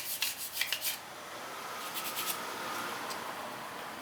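Sandpaper rubs by hand across the worn clutch lining of a Yamaha Mio CVT, a few quick rasping strokes at first, then a steadier, softer scraping up close.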